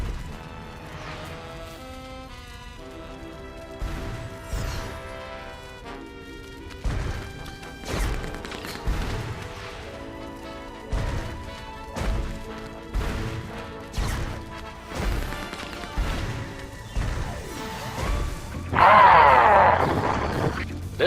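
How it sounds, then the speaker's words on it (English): Repeated heavy smashes and crashes pound through a city in the Sam & Max adventure game, rhythmic thumping impacts with groans, over background game music and building to a louder burst at the end. "pointlessly smashing everything in sight"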